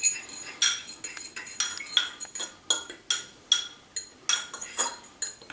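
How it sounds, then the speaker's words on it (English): Herbs are tossed in a bowl for seasoning a smoked leg of lamb, giving a steady run of bright clinks and scrapes, roughly two or three per second, close and crisp with no talk. "Now for these herbs, what I like to do is just put them in a bowl. Just kind of mix them up just a little."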